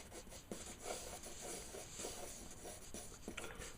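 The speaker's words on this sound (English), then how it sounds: "I'm just going to draw the head shapes first." Pencil drawing head shapes on paper, soft scratchy strokes in short irregular bursts, close but faint against a steady background hum.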